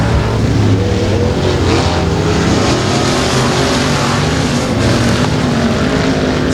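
Race cars at Timberline Speedway roar side by side toward the finish line, a loud, dense, continuous engine howl with no break in it.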